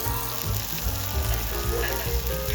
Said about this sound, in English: You can sear it on a hot stone plate and cook it to your preference. The sizzling sound and the aroma of the beef really helps to open up the appetite.